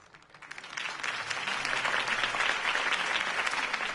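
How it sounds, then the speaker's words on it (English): A crowd applauds a speech in the Batman game Realm of Shadows, swelling from a quiet start to a full, steady clatter of many hands clapping. "could have heard that applause"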